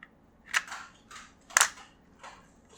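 Two sharp plastic clicks about a second apart as a slide is fitted onto an SSX23 airsoft pistol, close and crisp with faint handling noise between them.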